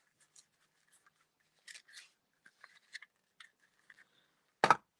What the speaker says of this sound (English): we're just going to snip, snip, and there's our bow